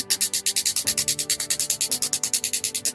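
A shockwave therapy machine running, firing rapid regular pulses at about ten per second with a sharp percussive tapping over a faint tonal hum, close and steady.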